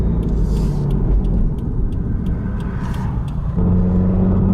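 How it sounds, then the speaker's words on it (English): Air draft rushes past rear window louvers on a moving 2015-2017 Subaru WRX, a steady, loud broadband whoosh over a low engine and road rumble that never lets up. "I can hear the draft on them, for sure."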